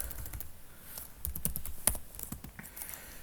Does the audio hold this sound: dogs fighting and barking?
no